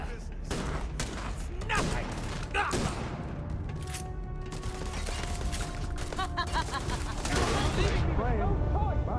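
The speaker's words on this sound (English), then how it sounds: "So I'm gonna get out my exploding shotgun" An exploding shotgun fired repeatedly in Starfield, heavy booming blasts in quick succession over a rumbling bed, with someone talking at times.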